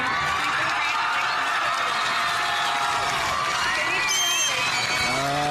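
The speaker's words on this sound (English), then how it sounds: "that was nice to hear that cheer" A crowd cheering the graduating class of 2019, a broad, steady roar of voices and applause that holds loud throughout, with a few whoops rising near the end.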